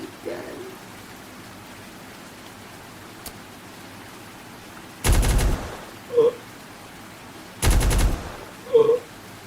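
Newly found deep gun in an exploration video game fired twice, each shot a loud, broad noisy burst about half a second long, followed by short tonal echoes, with faint ambient hiss between.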